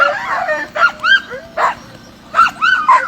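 Sled dogs at a race start give excited yips, whines and short barks in several bursts over a steady low background hum, fairly close, with no clear talk.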